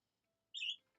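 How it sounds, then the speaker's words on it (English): A single short bird chirp rings out clearly in a quiet scene of the visual novel game Doki Doki Literature Club, a bright burst lasting about a quarter second, heard alone. "As I hear birds chirping."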